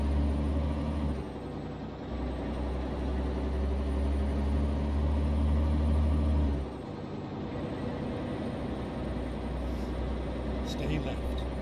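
An old-school day cab truck idles with a deep, steady low rumble, its engine note shifting partway through, while air brakes hiss faintly and a voice talks over it.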